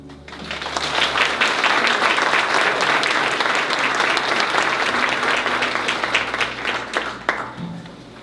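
A keynote speaker at a corporate lighting company event is welcomed by an audience with steady, loud applause. Dense clapping fills the room for several seconds and then thins out toward the end.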